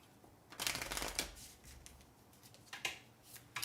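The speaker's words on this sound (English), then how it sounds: "Hopefully that's a good shuffle" A deck of cards shuffled for a board game, two or three quick riffling bursts close by, the first the longest, then softer flicks and taps at a quiet level.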